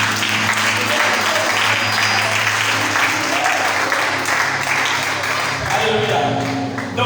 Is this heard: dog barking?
no